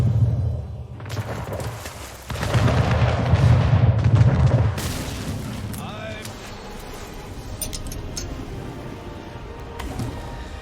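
In the naval battle game Anno 1800, ships fire their cannons with heavy booms and rumbling blasts, followed by lighter impacts, while a player's voice talks over the gunfire.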